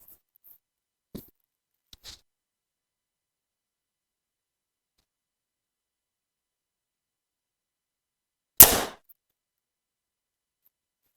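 A single sharp release from a 2025 Mathews Lift X 33 aluminum compound bow cracks out after near silence, preceded by a few faint clicks, with a short buzzing decay following the shot.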